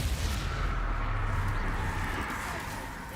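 Confringo spell blasts in Hogwarts Legacy, a loud, dense wash of booming explosions with heavy low rumble, sustained and slowly fading, with battle noise layered thick throughout.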